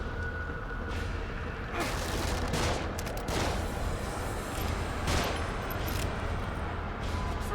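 Rapid gunfire and explosive booms in the horror video game The Evil Within, dense continuous bursts of shots over a loud rumbling bed, with a few sharper volleys standing out.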